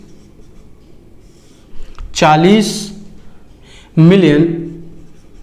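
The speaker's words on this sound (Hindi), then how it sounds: "देखिए हम बोर्ड की तरफ आपको लिख करके बता रहे हैं।" Scratchy writing on a board during a Hindi-medium Class 6 maths lesson on numbers, a soft faint scraping that sits beneath a man's clear spoken explanation.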